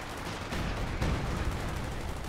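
Howitzer artillery shells crash down in Company of Heroes 2, a dense, continuous roar of heavy explosions filling the whole stretch with no voices over it.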